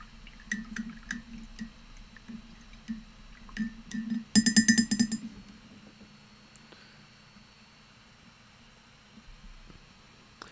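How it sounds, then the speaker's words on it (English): A lighter drops into a cup of paint-brush water and makes a quick cluster of sharp splashy clinks, with softer drips and small clicks before and after in a quiet room. "I just dropped my lighter in my brush water cup"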